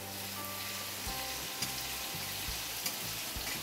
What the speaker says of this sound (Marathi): हा बघा आता लसूण आपला ना असा भाजून घ्यायचा बघा